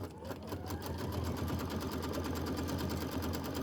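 A sewing machine stitches slowly and steadily while its button is held down during quilt block piecing, a continuous low mechanical hum with fine rhythmic needle ticking, close and fairly loud with no talk.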